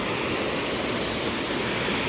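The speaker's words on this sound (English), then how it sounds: "This is Laurel Fork Falls." Laurel Fork Falls on the Appalachian Trail roars as a steady, dense rush of falling water, loud and close, filling the whole moment without a break.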